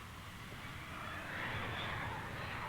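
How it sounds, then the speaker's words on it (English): Continuous aircraft engine whine and rumble from an airliner being prepared at O'Hare International Airport in Chicago, moderately distant and steady, slightly swelling toward the end. "An airliner is being prepared for a trip to Frankfurt, Germany."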